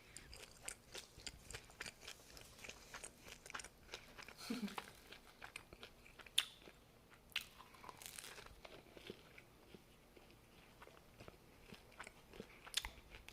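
Someone bites into a crusty baguette baked in a conventional oven, producing faint, scattered crunches and crackles of the crust followed by quiet chewing, close and unhurried, without talk.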